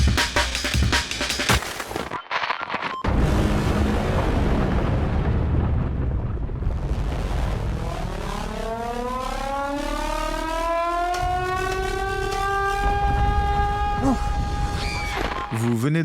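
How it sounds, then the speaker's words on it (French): A film disaster sequence in which a whole Norwegian mountainside collapses and sends a tsunami into a town: deep rumbling and crashing debris give way to a loud, rising and falling civil-defence siren that wails continuously over the roar. "Vous venez d'entendre un extrait du film catastrophe The Wave, dans lequel tout un versant de montagne se détache et provoque un tsunami sur une ville norvégienne"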